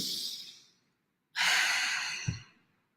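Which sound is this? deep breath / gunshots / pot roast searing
deep breath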